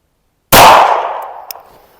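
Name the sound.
handgun shot fired with Cylee Ghost red dot sight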